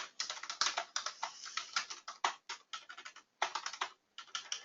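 Rapid typing on a computer keyboard, close and crisp, with bursts of quick clicky keystrokes separated by short pauses.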